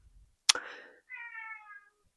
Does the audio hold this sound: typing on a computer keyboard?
no